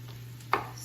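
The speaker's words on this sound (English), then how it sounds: "I'm just chopping the potato." A single knife chop through potato onto a cutting board while preparing vegan split pea soup, one brief close thud in a quiet kitchen with a low steady hum behind it.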